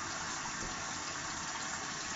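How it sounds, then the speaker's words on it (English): Hot water runs from a tap in a steady, even gush close by, continuing unbroken throughout without any voices. "Get me some hot water going."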